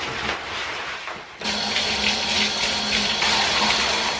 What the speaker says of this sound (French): je m'en vais dans la douche